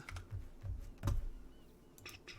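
Quick keystrokes on a computer keyboard during an Arma 3 gaming session, a handful of soft, irregular clicks close to the mic with a low rumble underneath.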